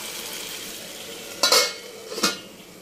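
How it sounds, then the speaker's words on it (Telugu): Ridge gourd chutney ingredients are stirred in hot oil in a pan, with a soft steady sizzle throughout and two sharp scraping clinks of a utensil against the pan near the end. "మొత్తం ఒకసారి కలుపుకొని ఆయిల్ అనేది పైకి తేలేంత వరకు మనం ఒకసారి వేపుకోవాలి."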